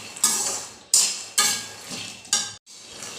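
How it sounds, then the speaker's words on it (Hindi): A spoon scrapes cashews and almonds roasting in a kadhai over a low to medium flame, four separate sharp metallic strokes with short gaps between them, close and clear with no talking. "काजू बादाम डालने के बाद मैंने इसे लो टू मीडियम फ्लेम के ऊपर 3 से 4 मिनट तक भूनकर रेडी कर लिया है"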